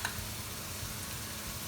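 Cumin seeds dropped into a hot pan for chana masala give off a steady, close sizzle that holds evenly from start to finish.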